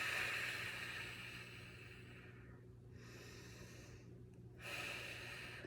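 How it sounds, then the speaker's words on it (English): A person in a strength and breathing class lets out long, breathy exhales through the mouth, a soft hiss that fades, pauses, then returns, faint against a quiet room hum. "big exhale out the mouth"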